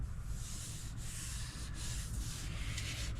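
Body filler on a car hood is sanded by hand in steady, continuous back-and-forth strokes, a close, dense rasping scrub with a few brief pauses at the stroke changes, and no talking.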